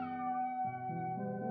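A cat meows in a long, drawn-out, close and clear call with a falling then wavering pitch, alone with no other sounds.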